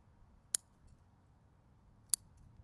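Two sharp, crisp snips of cutters taking a branch off a larch bonsai, spaced well apart and close by against a quiet background.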